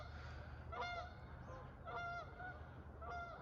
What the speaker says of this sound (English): I think those are some geese.